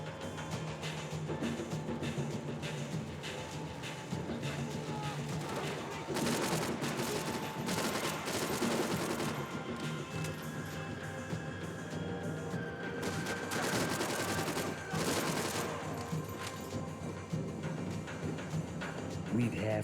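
Dense bursts of gunfire from the Max Payne 3 video game, with pistol shots among repeated volleys and crashes over a steady backdrop of game music and effects throughout.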